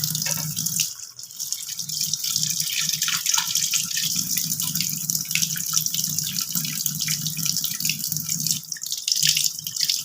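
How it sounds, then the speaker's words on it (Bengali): Water drips and trickles steadily as boiled soybeans, cooled in cold water, are squeezed by hand into a bowl. The watery splashing runs nearly continuously and close by, with a few stronger spurts. "জলটাকে ঠান্ডা জলে দিয়ে পুরো ভালোভাবে চিপে আমি এই বাটির মধ্যে নিয়ে নিচ্ছি"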